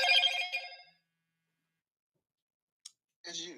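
A telephone rings loud and close for just under a second, its bright tone fading into silence, followed by a short click and then a voice speaking.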